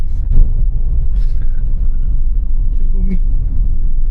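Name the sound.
Peruvian garbage truck driving by in Lima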